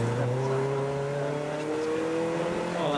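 A Honda S2000 race car on the Donington GP circuit holds a loud, steady engine note that climbs slowly in pitch as it accelerates, a close and continuous drone with no one speaking.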